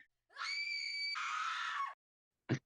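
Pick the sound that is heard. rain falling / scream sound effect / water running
scream sound effect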